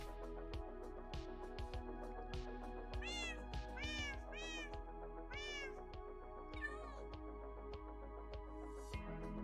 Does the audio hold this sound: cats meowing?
yes